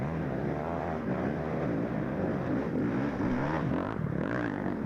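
Dirt bike engine held under heavy throttle during a muddy GNCC off-road race, a continuous loud droning roar with slight pitch shifts, steady and close throughout.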